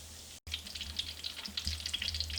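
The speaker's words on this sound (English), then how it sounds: "while these are doing their second fry" Korean-style chicken wings deep-frying in hot oil on their second fry, a steady crackling sizzle with dense bubbling pops, after a brief drop at the start.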